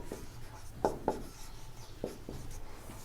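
Chalk or marker writing on a board during a maths class, a few short scratchy strokes in uneven bursts, close and fairly quiet over a faint room hum, no talking.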